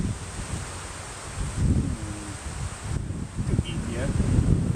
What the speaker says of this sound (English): Right now, with this wind